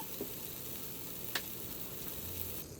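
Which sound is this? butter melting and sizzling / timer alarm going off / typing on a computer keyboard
butter melting and sizzling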